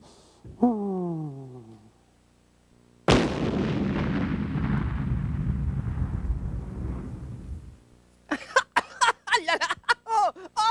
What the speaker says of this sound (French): Mais la bombe a explosé!